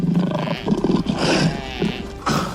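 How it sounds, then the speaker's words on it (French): Lions roar and growl in the wild during a confrontation with a wildebeest, several deep rumbling roars in uneven bursts, loud and close, with rustling between them. "Un groupe de lions tente de contrôler cet animal courageux"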